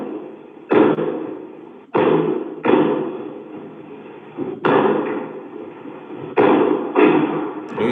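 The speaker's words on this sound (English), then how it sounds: "He breaking them door." Someone breaking down a door, a series of heavy booming slams and thuds at irregular intervals, loud and close, each impact ringing out briefly before the next blow lands.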